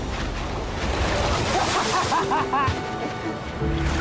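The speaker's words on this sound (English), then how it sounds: "We got water splashing on both sides." Seawater splashing against rocks on both sides near an island, a steady loud roar of surf and wind noise on the microphone, with faint voices partly under it.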